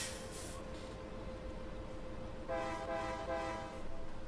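Train horn in the video game Farming Simulator 22, sounding in a couple of sustained blasts over steady rumbling rail noise and hiss, at moderate volume.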